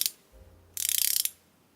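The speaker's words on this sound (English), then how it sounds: "it's got a really nice sounding ratchet." A Parkside 6.3mm ratchet handle clicks close and crisp: a short burst of click at the start, then a fast even run of around a dozen metallic ticks lasting half a second.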